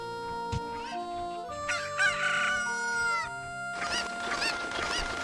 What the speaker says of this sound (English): The chickens are mad.